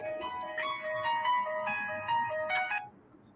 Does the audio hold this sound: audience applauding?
no